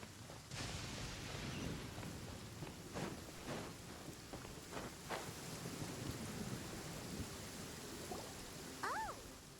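A thunderstorm in the game Genshin Impact, with steady heavy rain filling the whole stretch, several loud thunder cracks through the middle, and a brief whistling sound near the end.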